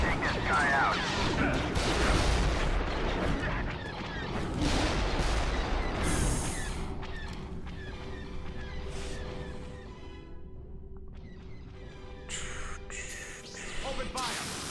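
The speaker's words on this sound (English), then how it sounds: "All blasters fire!" Blaster fire from a Star Wars space combat game, dense volleys of sharp shots and crashes layered with engine rumble and music, loud and continuous at first then thinning out, with a voice talking over it.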